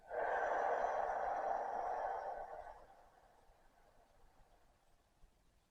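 During a yoga breathing exercise for the lower back and calves, one long, soft breath is pushed out through the mouth. The airy hiss is close and even for about two and a half seconds, then fades into quiet room tone.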